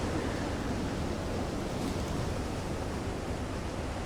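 Rough ocean waves wash continuously around a U-boat in Silent Hunter 3, a dense, steady rushing surf noise at moderate level with no distinct breaks.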